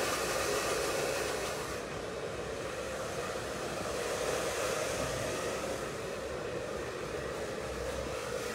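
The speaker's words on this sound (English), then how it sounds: "Just lightly, gently blow drying it." Hair dryer blowing on curly hair during a short bob haircut, a steady broadband whoosh running loud and unbroken throughout, alone without voices.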